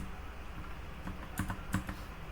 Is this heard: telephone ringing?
no